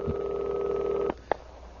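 A single long tone rings from a heavy landline telephone for about a second, then cuts off, followed by one short dial beep and quiet line hiss.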